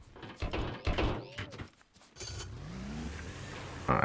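Small scrap-built vehicle in the video game Scrap Mechanic, clattering bumps and knocks followed by a low engine hum with a rising tonal whine, close and moderately loud.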